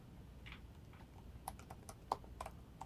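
Keys on a computer keyboard tap quietly in an uneven run of light clicks, a few sharper strokes standing out against a faint background hum.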